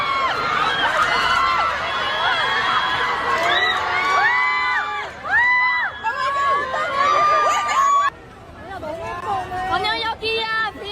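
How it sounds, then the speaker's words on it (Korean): A dense crowd of waiting fans screams and shrieks loudly and continuously as K-pop star Jang Wonyoung walks out after a fashion show in Europe, with high overlapping cries and shouted calls filling the air. "모자를 벗고 머리를 흩날리며 나오는 장원영을 향해 기다리고 있던 팬들은 비명을 질렀습니다"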